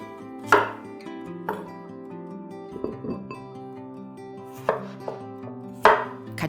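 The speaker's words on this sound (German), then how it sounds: "Paprika in grober Stück schneiden." Knife chopping bell pepper into coarse pieces on a board for a Chinese-style stew, with several distinct sharp chops spaced irregularly and faint clinking between them, no talk.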